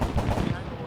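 Gunfire in the video game Arma 3, a loud, close burst of rapid shots crackling in quick succession over a very brief moment.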